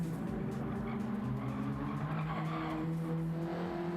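Mid-engine race cars in a racing video game lap the infield of Blue Moon Bay Speedway. Engines drone steadily and loudly, with rising and falling revs and some tire squeal throughout. No talk is heard.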